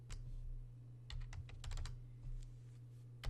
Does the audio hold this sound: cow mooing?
no